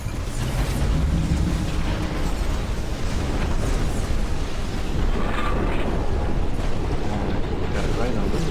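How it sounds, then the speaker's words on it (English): A barrage of missiles exploding against a generator in the mech strategy game Phantom Brigade, a dense, loud roar of blasts and rumbling debris with a voice talking over it. "All those missiles are coming in at the generator."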